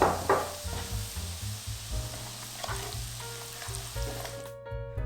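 Chili powder frying in oil held at about 160 degrees, a steady loud sizzle and crackle with a low hum beneath, running continuously and close throughout.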